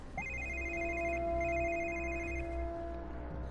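A cell phone rings in the post-apocalyptic game Mutant Year Zero: Seed of Evil, with two bright electronic ring bursts repeating over a steady low hum and faint ambient drone.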